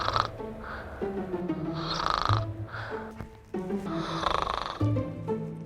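Loud, rhythmic human snoring repeats in slow cycles of rasping inhales and exhales within a radio advertisement for a snoring treatment, with no talking over it.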